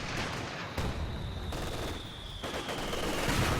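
MG42 machine guns rattle in repeated bursts in a Company of Heroes 2 team battle, moderately loud and layered with other battlefield noise, with no voices over it.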